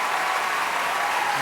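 A standing studio audience at a talent show claps steadily and densely, a loud, continuous wash of applause with no pauses.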